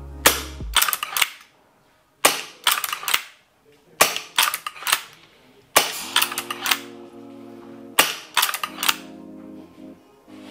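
Sharp single shots from a G&G LEV AR7 gas blowback airsoft rifle running at 150 PSI, fired in about five spaced bursts of cracking reports with mechanical clatter, close and loud with no talking.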